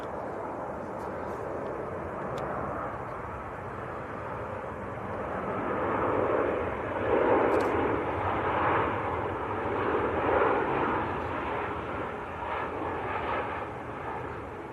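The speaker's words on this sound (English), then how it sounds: "Right, next to land, Jet 2 from Chambéry." A Jet2 Boeing 737-800 from Chambéry landing at Manchester Airport: a steady, broad jet-engine roar that swells in the middle as the airliner passes nearest, then eases slightly, heard outdoors without talk.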